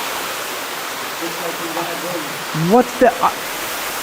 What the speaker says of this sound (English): There's a floating bridge with waterfalls on either side with tropical plants everywhere